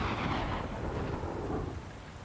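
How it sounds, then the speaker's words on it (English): A thunder crack rolls into a rumbling storm with rain, played as a sound effect during a tabletop game session, loud at first and fading slightly toward the end. "Overhead, lightning cracks."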